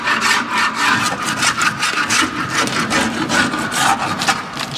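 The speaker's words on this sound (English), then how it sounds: "Maybe we'll give it a quick scrape" A scraper rasps steadily across the grimy underside of a '55 Chevy Nomad, loud, close and continuous with rhythmic back-and-forth strokes and no talking.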